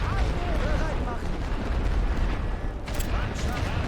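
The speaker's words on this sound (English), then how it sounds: "The light artillery might actually get these guys knocked out." Light artillery fire in The Great War: Western Front, a World War I trench-warfare game, booming continuously as a dense rumble beneath overlapping gunfire and battle noise, with talk running over it throughout.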